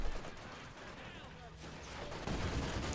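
Gunfire from the strategy game Company of Heroes 2, a dense, steady wash of battle noise with scattered shot bursts, getting louder near the end and mixed with talk.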